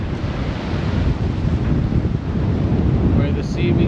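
Sea waves breaking where a river flows into the sea, a continuous loud roar of surf heavily mixed with wind buffeting the microphone, steady and close throughout.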